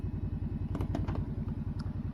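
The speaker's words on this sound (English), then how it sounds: "the engine braking is just so good in situations like this" Kawasaki Brute Force 750 quad, a 2024 model, engine braking downhill in low range, giving a steady, close, pulsing low rumble with a few faint clanks over it and no talk.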